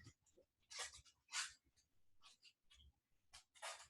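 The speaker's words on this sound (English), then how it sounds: "My dog is joining us today." A pet dog named Oakley breathes and snuffles nearby during a home core workout class, with short huffs and sniffs in uneven bursts, soft and close, and no talking.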